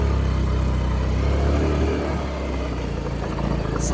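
A Honda Activa scooter engine idles after starting, a steady low putter close by with constant mid-range hum that eases slightly partway through. No voices are heard.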